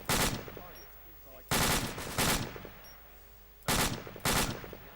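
Automatic rifle fire in the video game Squad comes in short, sharp bursts, loud and close, at about four points spaced unevenly over a few seconds, with faint voices between them.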